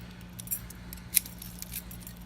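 New keys tried in a gate lock, faint jangling and light metallic clicks, with one sharper click near the middle, over a low background hum.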